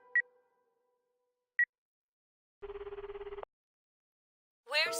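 A phone call in the video game Akiba's Beat starts with two short electronic blips, then a buzzing ring tone that pulses for under a second, followed by a rising electronic chirp.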